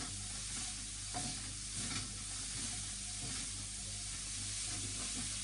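Chicken noodles sizzle in a pan while being stirred and mixed, a constant frying hiss with soft scraping strokes, close and steady throughout.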